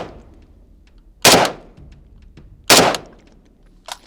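Two loud, sharp rifle shots from an FN FNC firing 5.56 55-grain rounds, about a second and a half apart, each followed by a short echo, then a fainter crack at the end.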